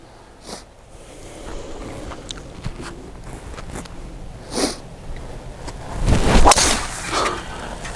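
A golf driver swung hard on a practice range cuts the air with a strong close whoosh, one loud rushing burst after several softer brushing and scuffing noises.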